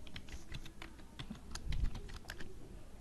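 Rapid typing on a computer keyboard as b.clear() is entered, a steady run of light, close key clicks with small pauses between strokes.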